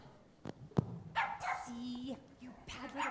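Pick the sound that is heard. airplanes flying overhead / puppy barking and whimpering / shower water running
puppy barking and whimpering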